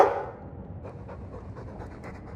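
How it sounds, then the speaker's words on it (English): A Mabari dog from Dragon Age II pants in quick, soft, rhythmic breaths close by, fairly quiet and steady, with no one speaking. "I'm sick of what's-his-name staring and panting."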